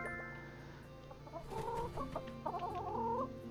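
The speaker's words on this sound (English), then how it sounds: "Chickens do not like being woken up like this, by the way." Chickens in the farming game My Time at Sandrock cluck and squawk in short bursts over a quiet background of game music, fairly soft.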